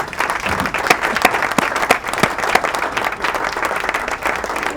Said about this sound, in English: Round of applause with your best expressions, Mr. Stephen Abiodun for his first training